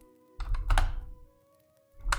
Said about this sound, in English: I was typing in my other monitor.